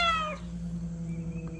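A cat, apparently a stray, gives one loud, close meow that slides downward and fades, followed by quiet room background.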